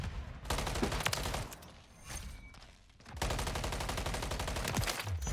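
Rapid automatic gunfire in Call of Duty MW3, fired in two long dense bursts separated by a brief quieter gap with scattered single shots, close and loud.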